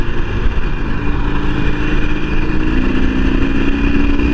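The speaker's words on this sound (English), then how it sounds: "Now this is where the Iron Sportster really belongs, In the highway, high speeds." A Harley-Davidson Iron Sportster 883 motorcycle cruises on the highway at high speed, its engine a loud, steady rumbling drone with a sustained tone, mixed with strong wind rush close to the rider.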